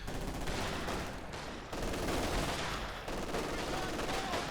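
Dense, continuous battle gunfire with overlapping rifle and machine-gun bursts and rumbling explosions fills the mix in the Company of Heroes 2 video game, loud and sustained with brief dips.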